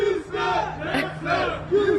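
Crowd of football fans gathered outside Reliant Stadium hours before kickoff, cheering and shouting together in loud rising and falling waves of massed voices.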